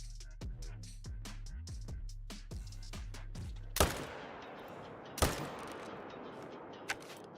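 A hunting rifle fires at a mule deer buck on Askiy Ridge in a hunting video game: one sharp, loud crack with a rolling echo, a second shot soon after, then a fainter third, following some lower tonal game sounds.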